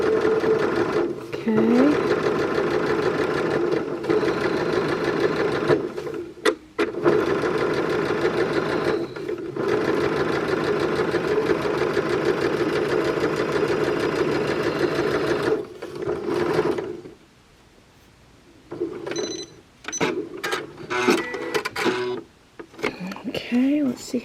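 A home sewing machine back stitches fabric for a dress top. It makes a steady, loud mechanical whir that runs in long bursts with short pauses, and a person speaks briefly near the end.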